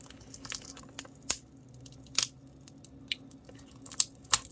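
Cracked tempered glass screen protector being pried off a Nintendo Switch Lite, giving scattered sharp crackles and snaps at irregular intervals over a faint background.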